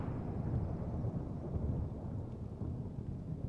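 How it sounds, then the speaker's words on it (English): Storm weather with drizzle in the flight simulator game Microsoft Flight Simulator 2020, at Wellesbourne Mountford Airfield: a steady, dense low rumble of rain and distant thunder, constant throughout without distinct peaks. "This is the Humid Storms preset, and it's a bit of drizzle"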